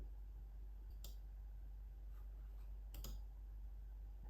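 Two faint, sharp mouse clicks sound about two seconds apart over a low steady hum while macOS is being installed.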